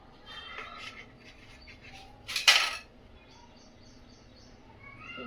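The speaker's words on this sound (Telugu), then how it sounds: "ఇప్పుడు దీన్ని ఇలా 2 సైడ్స్ కట్ చేసుకుందాం." A knife crunches through avocado bread toast, slicing it into two pieces in a short, loud burst of crisp cutting near the middle, with soft kitchen clatter before and after.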